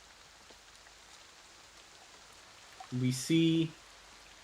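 Steady rain falls through a rainy evening, a soft, even patter that carries on throughout, with a short burst of voice near the end.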